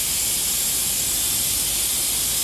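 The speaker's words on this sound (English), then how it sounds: "now I'm gonna open the valve" Valve opening on an oil extractor pump during an oil change on a Jaguar F-Type R, giving a steady, even hiss of rushing air and fluid that holds without a break, fairly loud and close, with no voices.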